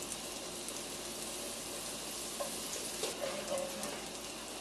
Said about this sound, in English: Once the pan is hot or warm, we will add the butter and let it melt.